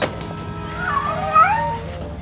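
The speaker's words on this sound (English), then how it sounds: "this place is crawling with cats." Cartoon cats meowing in a Scooby-Doo episode set on a pepper plantation overrun with cats, a drawn-out wavering meow rising and falling over about a second, moderately loud against a busy soundtrack.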